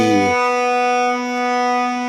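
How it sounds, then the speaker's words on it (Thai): A voice speaks briefly, then a guitar's B string is plucked and rings out alone, clear and sustained, fading slightly as it holds. "จะเป็นเสียง B"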